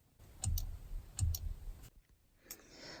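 Machined aluminum shift paddles on a Ford GT clicking with a firm action: two crisp paired clicks close by, then a fainter final click, with no talk.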